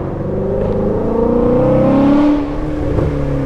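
A car driving in second gear, its engine revving steadily with a rising then falling whine, close and loud with no voices over it.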